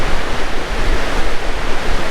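Water rushing over a massive weir on the River Neath, a loud, steady broadband roar that stays constant throughout, with no speech.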